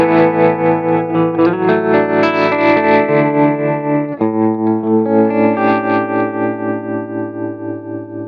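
Electric guitar runs through an Axe-Fx II modulation effect with its rate and depth turned down, sustained distorted chords that swirl gently and ring loudly with no one speaking.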